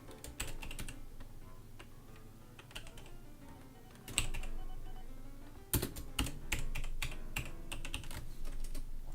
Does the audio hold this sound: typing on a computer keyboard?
yes